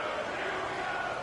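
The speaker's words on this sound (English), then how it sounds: "the crowd getting into it as we come up on a big 3rd down" Stadium crowd in an American football video game, a dense steady roar of cheering building before a big third down, loud and continuous with no distinct talk.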